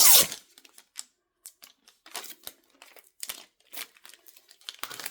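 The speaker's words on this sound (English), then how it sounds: "And then we're going to take the tape off, do the back side here." Tape peeled from a DTF transfer on a t-shirt, a burst of sharp crinkling at first, then a run of scattered short crackles and rustles close up, with no talking.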